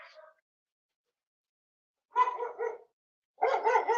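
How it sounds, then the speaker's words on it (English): A big dog barks outdoors, a short bark followed by a pause and then two quick bursts of barking, close and clear. "Oh, there's a big dog out here."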